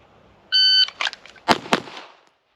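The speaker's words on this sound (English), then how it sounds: "The time was 1:22 to react to the timer, draw and fire 2 shots on this target." An electronic shot-timer beep sounds first, then a semi-automatic pistol fires two loud, close gunshots at a target on an outdoor range, with a short gap between the shots.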